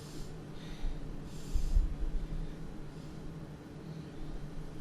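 Soft nasal exhales and breaths from a person doing a beginner home breathing exercise, with a couple of airy puffs over a low steady hum; no talking.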